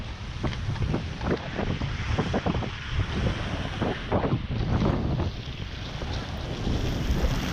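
Inline skates on Powerslide Imperial SUV frames roll over wet asphalt, giving a steady close hiss and rumble with rhythmic stride scrapes, partly buried in wind noise on the microphone.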